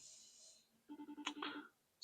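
A phone rings on an outgoing call, a faint tone followed by a short pulsed ringback burst, quiet and close, with no talking.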